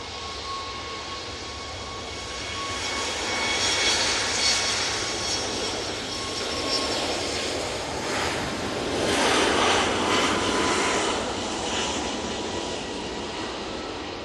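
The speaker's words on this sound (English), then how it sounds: "Ryanair 737 MAX 8. Now back to parts. Going off to Bratislava." A Ryanair Boeing 737 MAX 8 jet departs Manchester Airport, its engine roar distant and broad, swelling and fading gently across the clip with a wind-like rush, no voices.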